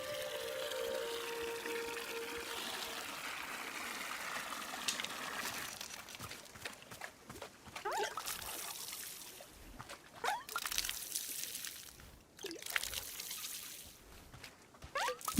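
Watering plants with a watering can in the cozy video game Wanderstop: soft, continuous trickling and pouring water with light splashes, steady throughout and fairly quiet, with no talking.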